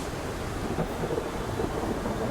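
A storm at sea in The Pale Beyond: a dense, steady roar of thunder, rain and crashing waves fills the whole moment, loud and unbroken, with no voices.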